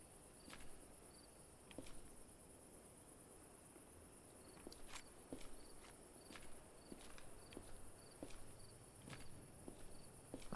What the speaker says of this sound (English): I heard footsteps just now.